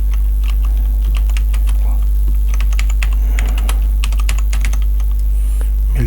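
Rapid clicking keystrokes on a computer keyboard while text is entered into an Excel 2019 spreadsheet, irregular bursts of clacks over a loud low electrical hum, with a voice speaking briefly.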